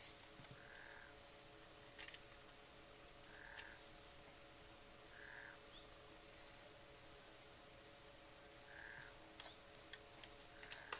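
Frog croaking in a dinosaur survival video game, short repeated croaks at uneven gaps over a steady hum and light ticking, fairly faint.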